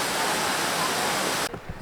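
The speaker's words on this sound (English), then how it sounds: "we have lots of waterfalls" A Welsh waterfall roars as a dense, loud, steady rush of water that cuts off abruptly near the end, leaving faint low rumbles.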